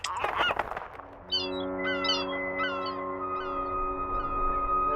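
Seagulls cry in the film The Lighthouse: a burst of noise at first, then several strident, honking gull calls over a steady, droning tonal hum.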